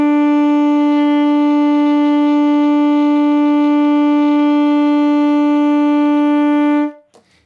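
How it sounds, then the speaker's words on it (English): A saxophone, tenor or soprano, holds a single steady E note for about seven seconds, rich in harmonics and loud and close, then stops cleanly with only a faint tail. "The fourth note that we're going to learn together is the note E."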